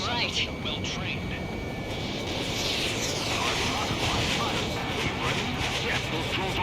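Drone aircraft in Ace Combat 7 roar past in a steady, loud jet rush with wind-like hiss, sustained throughout and overlaid by radio chatter and voices.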